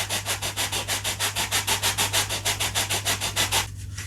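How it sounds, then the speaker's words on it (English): Sandpaper rubbed back and forth on a part of a Kavan Uhu/Falke model glider, a steady rapid rasping of about twenty even strokes, close and loud, stopping near the end. "as long as I sand this vertically"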